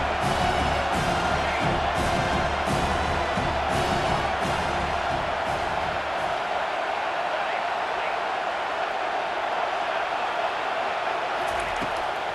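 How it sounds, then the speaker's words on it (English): Stadium crowd noise in EA Sports College Football 25 as fans rise behind the defense on third down, a dense continuous roar with cheering swells, steady and loud throughout. "Decibels rising as the crowd gets behind this defense on third down"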